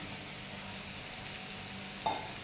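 Cut raw mango pieces frying in sesame oil in a pan, a steady low sizzle with a brief stirring clatter near the end, close and even, no talking.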